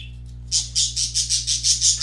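Birds squawk in the background in a fast, steady run of about eight harsh chirps, fairly loud and evenly spaced, over a constant low electrical hum.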